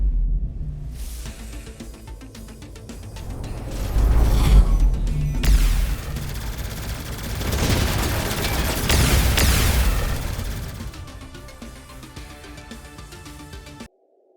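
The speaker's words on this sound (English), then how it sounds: "To have an actual capital ship firing at us" A capital ship opens fire in the Starpoint Gemini 3 space game, bringing heavy booming blasts and crashing impacts that swell and fade over a rumbling mechanical background, with no voices.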